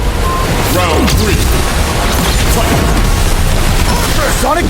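Guile's Sonic Boom special move in a Street Fighter game, buried in a loud, dense mix of booming impacts, crashes, music and announcer-style voices.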